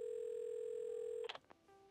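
Telephone in the video game Assemble With Care: a steady dial tone hums alone, then cuts off into a quick cluster of short dialing beeps and clicks, fairly quiet throughout.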